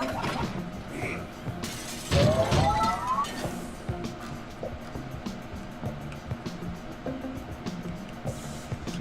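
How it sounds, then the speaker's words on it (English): Glass shatters in the puzzle video game Quantum Conundrum, a loud crash with clinking shards around the two-second mark, set against steady game ambience and faint mechanical hum. "the breaking of this glass is a necessary evil"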